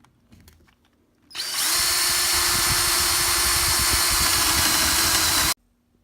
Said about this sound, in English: Now we have all 5 holes drilled out.